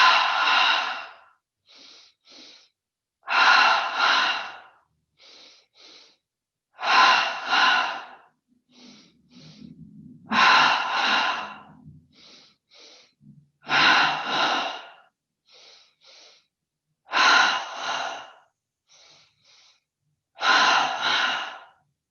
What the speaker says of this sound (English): 10 double breaths, breathing in through the nose twice